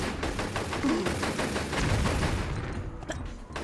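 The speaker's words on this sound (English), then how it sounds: "You can easily shoot the targets with pistols" Pistol shots crack in quick succession at targets on a video game carnival shooting ride, a rapid run of sharp reports that ends in a few louder single shots.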